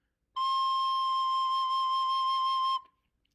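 A recorder plays the note C, fingered with the second finger and thumb. It is a single clear, pure, steady tone held for about two and a half seconds, close and solo, then stops.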